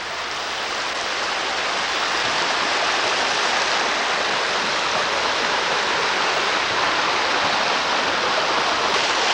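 A river stream flows steadily somewhere far upriver from the ocean near Crescent City, a dense, continuous rushing wash of water that stays loud and even throughout with no voices.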